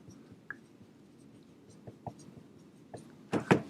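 Marker or chalk writing on a lecture board, a string of faint scratchy strokes and taps ending in a couple of louder tapping strokes, close by against quiet room noise.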